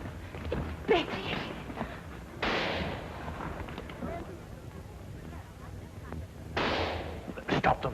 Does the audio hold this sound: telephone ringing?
no